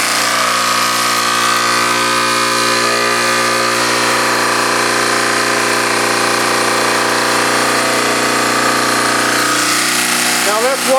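A fuel-less generator runs steadily throughout, a loud continuous mechanical drone with a whining harmonic hum and no breaks.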